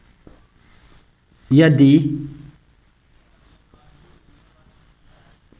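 Chalk or marker scratches across a board during a tense lesson in a classroom, soft intermittent strokes around a brief spoken word from the teacher.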